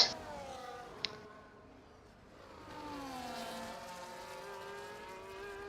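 A Formula 1 race car engine in the F1 24 game at Imola sounds out as a car leaves the pit lane, its engine note climbing and shifting through gears, steady and mid-distance with a couple of sharp clicks early on.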